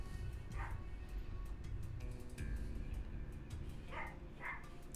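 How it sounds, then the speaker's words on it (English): Several dogs bark in short separate yips and bow-wows, fairly distant and modest in level, over a constant low background rumble with no talk. "And there's the dogs barking"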